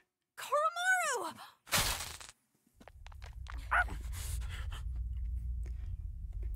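A small dog in Persona 3 Reload, Koromaru, gives a sharp whining yelp followed by a burst of noise, then quieter panting and scratchy sounds over a low steady rumble.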